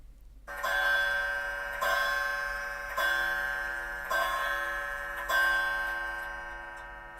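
A clock strikes five o'clock, five ringing chimes about a second apart, each decaying slowly, after a brief soft ticking lead-in, heard alone in a quiet room.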